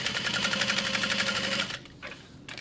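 A sewing machine stitching a quick tack on a mini backpack, running in a rapid steady close rhythm for about a second and a half, then stopping with a few light clicks.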